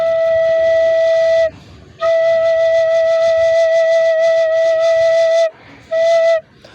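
A recorder plays a clear, steady D sharp / E flat note three times: two long sustained tones and one short one, separated by brief pauses with soft breaths.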